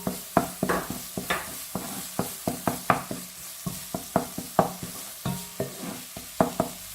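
Garlic and onion frying in a pan for a merguez tajine, stirred with a steady run of quick, close scraping strokes over a low continuous sizzle, no voices.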